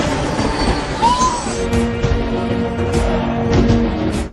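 A train at a railway station, with a steady rumble, brief wheel squeal and metallic screech, and a faint horn-like tone drawn out over the continuous background noise.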